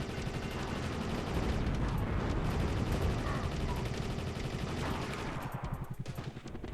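Rapid gunfire from the Saturn helicopter shooter Soviet Strike, a dense continuous burst of shots and explosions throughout, loud and busy, easing slightly near the end.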